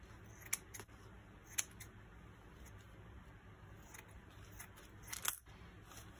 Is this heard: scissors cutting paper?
yes